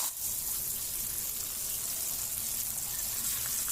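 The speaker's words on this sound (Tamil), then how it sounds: "இப்போ இந்த கத்திரிக்காவை மட்டுமே நம்ம லைட்டாக வறுத்து, அதாவது லேசாக வதக்கி எடுக்க போகிறோம்" Eggplant pieces shallow-frying in oil in a pan, a steady close sizzle and crackle that holds evenly throughout with no break.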